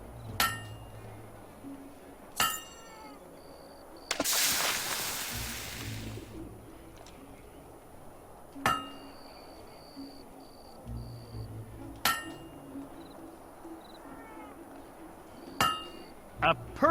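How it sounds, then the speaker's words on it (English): A blacksmith's hammer rings sharply on metal in Fable 2, loud separate strikes spaced a couple of seconds apart over a quiet ambient bed, with one longer hissing burst in the middle. "A perfect hammer blow."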